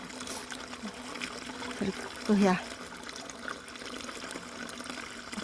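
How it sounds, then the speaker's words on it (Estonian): Milk is poured through a strainer with a cloth filter at a farm museum, a soft trickle and brief splashing pour under a quiet voice speaking nearby. "Siis laseme ilosahe läbi sõgla kõik, et puhas piim olessi."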